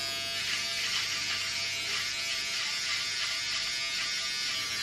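Electric clippers shave a son's hair in a home skin fade, giving a steady, close, loud buzzing whine that holds evenly throughout with no talk.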